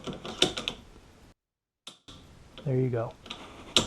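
A Remington 700 rifle's safety and trigger mechanism gives a few sharp, close metallic clicks amid brief handling noise, with someone speaking briefly between them.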